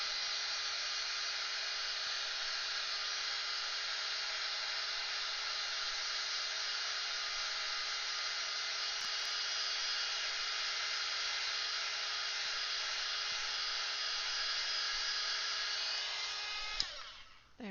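A hair dryer blows steadily over wet paint on a colouring page, a loud, even whir held close for the whole stretch before it cuts off at the very end.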